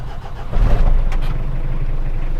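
A car engine cranks and catches, jumping to a loud, steady low idle about half a second in and holding there, close by.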